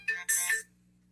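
A mobile phone ringtone plays a short, bright melodic burst in two quick phrases, moderately loud and close, then cuts off, leaving a low steady hum behind.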